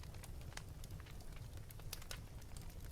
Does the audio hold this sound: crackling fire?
yes